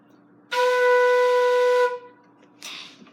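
A flute sounds a single sustained B note, clear and steady for over a second before stopping, followed by a short softer breathy sound.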